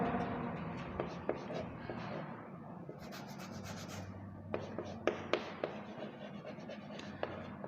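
Chalk or marker scratching across a classroom board as a definition is written, with repeated short strokes and taps, close, while a teacher talks quietly throughout.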